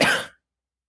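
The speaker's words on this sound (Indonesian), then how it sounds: "Maaf ya teman-teman kalau aku batuk ya" A single close, harsh cough bursts out during a relaxed chat with an Islamic teacher, then cuts to silence.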